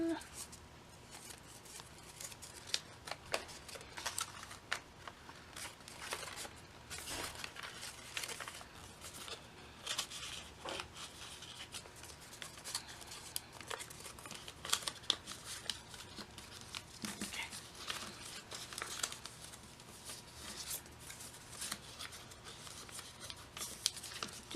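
Paper being creased and folded by hand while making an origami diplodocus, with soft crinkles, taps and rustling scattered throughout, quiet and close.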